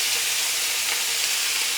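Chicken sautéing in a small amount of oil gives a steady, close sizzle and frying hiss that holds evenly throughout, with no voices over it.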